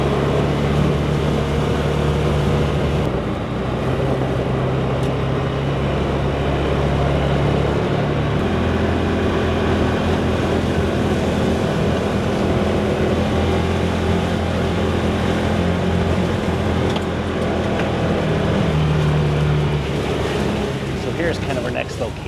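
Vehicle engine idling and rolling slowly uphill along a rural road past a cabin on a 100-acre property, a steady low rumble throughout with occasional voices inside.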